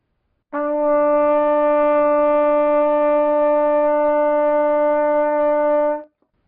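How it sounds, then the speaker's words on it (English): A single sustained trumpet E note, played with first and second valves, held steady and clear for about five seconds before stopping cleanly. "Now one step higher is an E, and you play that using the first and the second valves."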